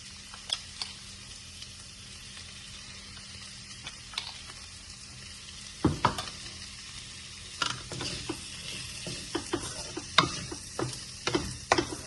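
Green beans fry with peanut powder in a pan while a spoon stirs and scrapes through them, producing a low sizzle broken by irregular clattering scrapes that grow busier and louder in the second half, with no voices.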